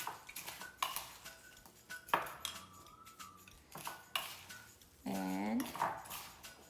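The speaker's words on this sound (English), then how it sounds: "You may have to mix it for at least 30 seconds so it gets mixed thoroughly." A spoon stirring homemade bath salts, giving scattered clinks and gritty scrapes of varying loudness, with a person speaking over the mixing.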